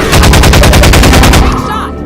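Rapid loud bursts of automatic gunfire from the shooter game Half-Life 2 Episode Two, a dense rattling volley lasting under two seconds before cutting off abruptly.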